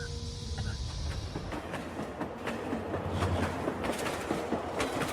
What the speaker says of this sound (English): At Edfu, the train begins to run alongside the Nile.